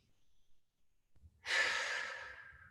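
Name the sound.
deep breathing during a stretching exercise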